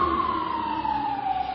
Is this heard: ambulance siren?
yes